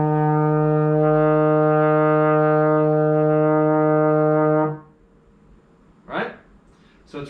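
A trombone sustains a steady, rich E flat in third position, a single long held note lasting several seconds before stopping, followed by brief quiet breaths and room noise.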